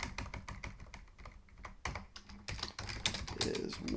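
Someone types on a computer keyboard in a rapid, irregular patter of key clicks, close by and steady, with a few louder presses near the end.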